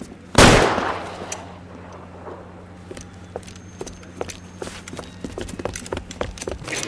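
A single loud gunshot cracks out in the video game L.A. Noire, followed by quieter scattered impacts, clicks and footsteps over a low steady hum.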